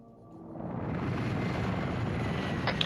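A helicopter in a video game flying nearby, a broad rumbling roar that swells over the first second and then holds steady and loud, with a brief higher-pitched sound near the end and no talking.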